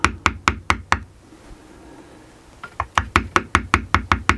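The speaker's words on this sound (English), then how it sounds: "just go back over it and tap lightly" A metal leather-tooling tool is tapped with a mallet onto leather in a steady series of crisp, close knocks, pausing briefly before the even rhythm resumes.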